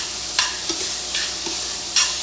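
Tomato and shrimp sauce sizzles steadily in a sauté pan, with a spoon scraping and stirring through it in several soft strokes, close up and with no voices.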